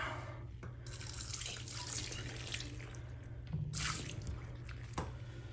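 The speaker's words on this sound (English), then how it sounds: "let's pour some of that out" Water being poured out of a container while washing makeup brushes, a splashing trickle that comes in a few short bursts with quiet gaps and a louder gush near the end, all fairly close.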